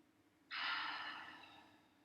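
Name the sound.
deep breathing during yoga practice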